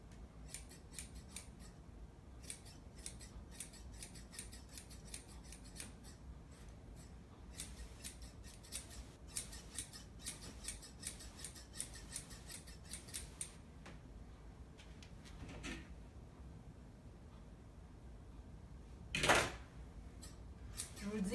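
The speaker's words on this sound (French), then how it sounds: "On va chercher qu'est-ce qui est par en dedans et on va le couper aussi." Dog grooming scissors snip rapidly through a poodle's fur in quick, crisp bursts, pausing briefly, then resuming, with a louder rustle near the end and a faint voice in the background.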